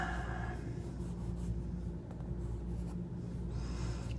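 A pen scratches steadily across paper while inking a figure sketch, a continuous close rubbing hiss with small strokes and pauses, heard alone under a low constant room hum.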